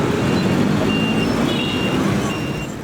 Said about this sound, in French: Comme partout dans le pays, la circulation est assez anarchique.